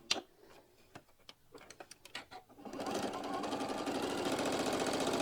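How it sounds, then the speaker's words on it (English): A home sewing machine stitches fabric, starting with scattered clicks and ticks as it is handled, then running into a steady, close mechanical whir that carries to the end. "So I got my machine set up, and we're going to start getting all of our stitches done"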